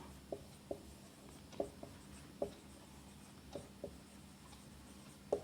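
Marker or chalk writing on a board, heard as a series of quiet, scattered taps and short strokes at an irregular pace over a low background hum.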